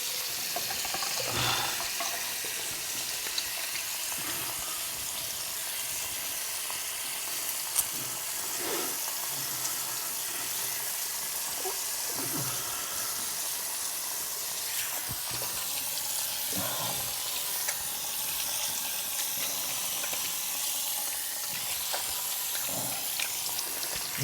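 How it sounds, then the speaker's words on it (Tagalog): Tap water runs steadily into a large sink during handwashing, a continuous close splashing hiss with small irregular clatters, no talking. "Hugas muna ako ng kamay."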